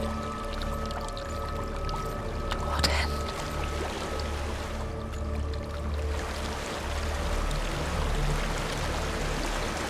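Steady rushing waterfall in the video game Hellblade: Senua's Sacrifice, a continuous broad roar of falling water with low ambient drone, briefly under a spoken voice.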